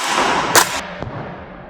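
A Tokyo Marui MWS M4 gas blowback airsoft rifle fires one sharp, close crack followed by a faint secondary click, over a quiet hissing background.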